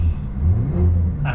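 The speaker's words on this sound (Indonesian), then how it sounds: "Senang banget dengar suara mesin." The 3.2-litre six-cylinder engine of a first-generation Porsche Cayenne rumbles loud and close in a steady, throaty rev with a deep low-end drone.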